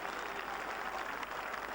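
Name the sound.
crowd cheering and applauding batsman at Lord's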